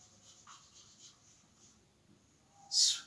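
Marker or chalk writing on a board during a lesson on apostrophes, faint soft scratching strokes in a quiet room, ending with a brief louder rub or squeak.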